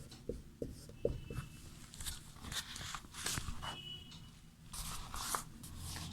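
Chalk or marker scratching on a board during a Sanskrit grammar lesson, a run of short scrapes and taps with a few louder knocks, close and steady with no talk over it.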